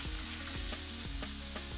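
A chorizo burger patty sizzles steadily in a hot pan just after being flipped, a constant close frying hiss broken by a few soft knocks of a utensil.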